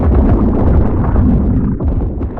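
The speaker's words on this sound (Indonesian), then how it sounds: "Kenapa mereka tiba-tiba meledak sih?" Enemies blowing up in the survival game The Last Caretaker, a dense, continuous roar of booming blasts and crackling bursts that stays loud and near throughout.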